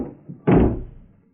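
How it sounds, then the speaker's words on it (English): A door swings shut with one solid thump, a close, heavy slam that rings out and decays over a second, after faint movement, as a sound effect in a radio drama. "I'm locking your door, and I've got the key, Candy"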